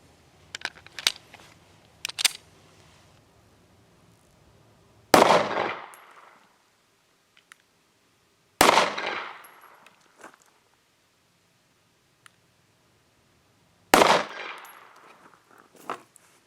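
9mm rounds from an M&P compact pistol fired at a Thrunite Catapult V5 flashlight in a torture test: three sharp, loud gunshots spaced several seconds apart, each ringing off briefly, with fainter clicks and handling noises in between.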